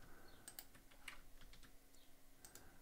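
Keys click on a computer keyboard while a Control+X cut shortcut is used, a few faint, scattered taps in a quiet room with no voice.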